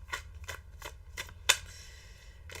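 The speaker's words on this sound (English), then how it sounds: "We're going to shuffle a couple more times" Tarot cards are shuffled by hand in a steady rhythm of soft, papery riffles about every third of a second, with one sharper snap near the middle, close and alone over a low hum.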